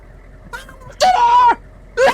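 A woman's scream imitated by a voice: a faint short cry, then a loud sustained wailing shriek lasting about half a second, followed by another brief loud shriek, with a quiet background.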